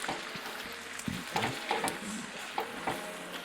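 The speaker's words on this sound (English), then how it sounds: "And then just stir." Fresh cream being stirred into a pan with Cajun blend seasoning, a soft, close sizzle under a spoon's repeated scraping and clinking strokes against the pan, with no talking.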